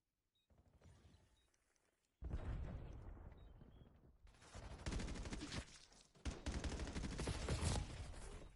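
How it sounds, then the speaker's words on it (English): Gunfire from many players in a Black Ops 7 video game, heavy overlapping automatic volleys that start after a quiet opening and grow louder in waves, close and continuous. "There's 10 people shooting me."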